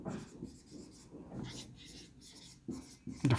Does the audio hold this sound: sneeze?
no